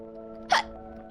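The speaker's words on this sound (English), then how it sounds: "Sorry, I got a hiccups." A single short hiccup from a person, sharp and close, rising briefly out of a steady low hum with no speech around it.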